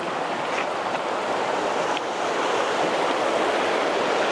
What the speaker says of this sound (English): Just gonna cross this river and then up the hill we go.